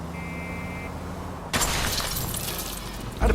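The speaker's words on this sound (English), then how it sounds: "Can you quit driving like a jackass already?" A car in the L.A. Noire video game driven recklessly crashes hard, a sudden loud smash with shattering debris after a quiet engine hum, then another impact at the end.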